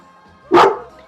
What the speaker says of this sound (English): Oh, that's somebody else's dog, huh? That's Charlie's.